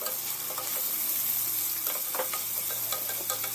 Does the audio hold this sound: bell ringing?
no